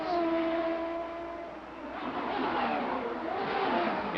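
CART Indy cars with Chevrolet and Judd engines race at the 1990 Meadowlands, with a loud high engine whine that fades and then swells again as cars pass, continuous and close.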